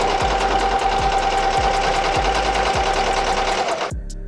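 An embroidery machine runs a placement stitch at steady speed, with loud, rapid mechanical needle strokes and a regular thumping beat close by, before the motor winds down and stops near the end.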